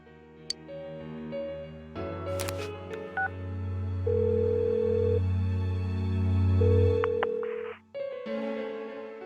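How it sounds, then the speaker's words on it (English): Phone dialing in the Persona 4 Golden video game: a series of distinct keypad tones followed by a sustained ringing tone over soft background music, clear and close. "Give her another call."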